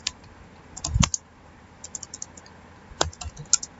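Keystrokes on a computer keyboard typing a SQL database command, a few sparse clicks with a louder cluster of taps near the start and scattered pairs later, close and otherwise quiet.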